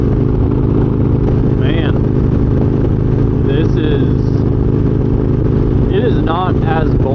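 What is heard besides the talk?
motorcycle riding on interstate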